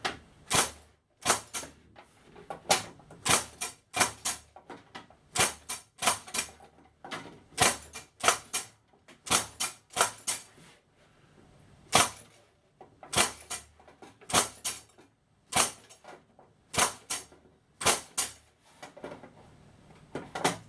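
A blade cuts and scores card for a music arrangement, giving a steady run of sharp, dry clicks and scrapes in close, irregular bursts with short pauses, heard alone without talk.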